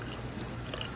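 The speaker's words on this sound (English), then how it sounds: "So she is rinsing it, but you'll notice we're not rinsing it at really high volume" Water running gently over hair as a perm is rinsed during neutralizing, a soft steady low-volume stream with light splashing and no voices.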